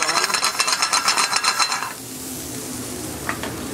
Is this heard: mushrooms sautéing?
yes